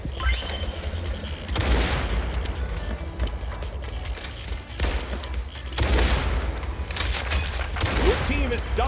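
Gunfire in the video game Pixel Gun 2, with a sniper rifle among the weapons: loud, dense bursts and booms crowd the scene, with sharp onsets near 1.5 and 5.8 seconds over continuous game noise.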